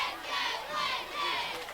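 A big crowd fills the stands at a 2010 Class 2A third-round high school football playoff game, Corbin vs Prestonsburg, making a broad, steady roar that swells and eases in waves from a distance.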